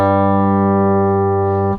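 A bass guitar G note run through a Boss XS-1 polyshifter in octave-up mode rings as one loud, steady sustained tone, then cuts off sharply at the end.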